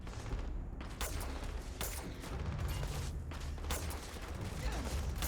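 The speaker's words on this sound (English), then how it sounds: "This gun's not firing properly." Repeated gunshots from a gun in Starfield crack out in sharp, uneven bursts over a dense backdrop of combat noise, close and fairly loud throughout.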